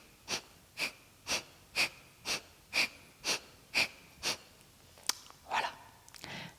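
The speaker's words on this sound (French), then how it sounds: "Donc on le fait en bouchant une narine puis l'autre." In a yoga alternate nostril breathing exercise, about a dozen quick, forceful nasal breaths hiss out at a steady rhythm of roughly two per second, close and alone, ending in a few looser snorts.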